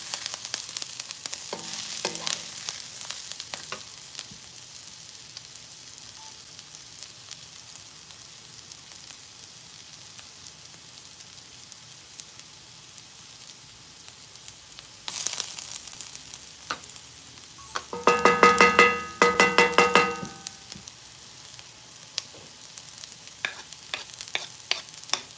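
A spoon stirs Egyptian kofta tomato sauce base as it fries and sizzles in a pan, a steady background sizzle with a louder burst of scraping and stirring near the end.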